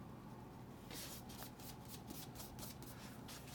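A 1.0 mm EnerGel gel pen scratches across the paper of an Alwych all-weather notebook, a faint, quick rhythmic run of pen strokes that starts about a second in and continues to the end.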